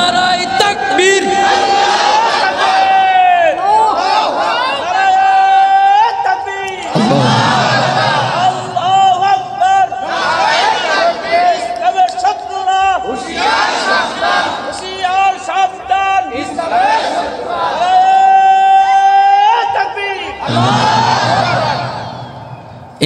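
At a Bangla Islamic sermon gathering, a large crowd roars Allahu Akbar (takbir) back at a leader's call. A single voice calls and a loud massed chant answers, in several rounds over about twenty seconds.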